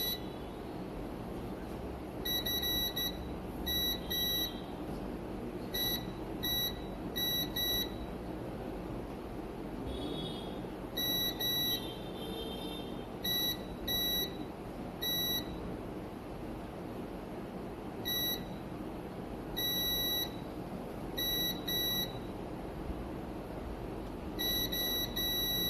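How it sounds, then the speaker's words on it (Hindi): A multimeter in continuity mode checks capacitors around the CPU on a dead Vivo Y400 Pro / V40e phone board, giving repeated short, shrill electronic beeps in irregular bursts over a steady hum, with no talking. "जो कैपेसिटर दोनों साइड से बीप करे वहीं पे आपको रुक जाना है।"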